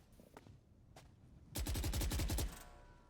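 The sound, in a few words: rifle gunfire in the video game Valorant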